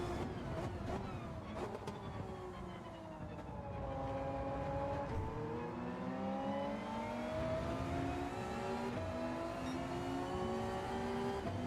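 A GR4 race car at speed on the Kyoto circuit in Gran Turismo 7, its engine whining and shifting pitch continuously as it accelerates, dips and climbs again, steady and fairly close throughout.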